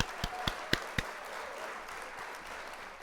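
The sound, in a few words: applause sound effect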